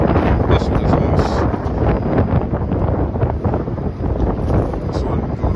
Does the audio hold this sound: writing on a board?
no